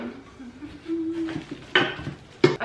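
Metal cake pan being handled and set down while packing up a kitchen for a move, with a couple of sharp clanks standing out over quieter rustling and shifting.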